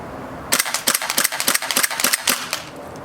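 A VFC HK416 gas blowback airsoft rifle firing outdoors at a range, a quick string of about a dozen sharp cracking shots in uneven bursts, close and loud after a brief silent moment.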